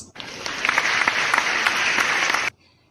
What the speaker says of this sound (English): Let us give them a big virtual applause.